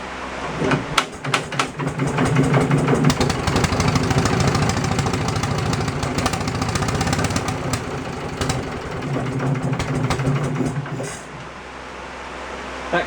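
A Wisconsin generator engine idles steadily and loudly for the whole stretch, its low rapid thumping firing pulses close by, with a slight roughness to the running and a dip near the end. No one speaks.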